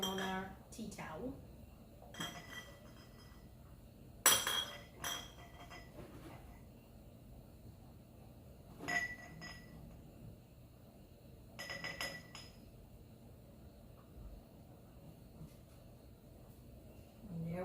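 Hot glass canning jars, fresh from a bean-canning batch, set down one after another on a tea towel, giving soft clinks and dull knocks at irregular intervals in a kitchen, with a voice speaking in between.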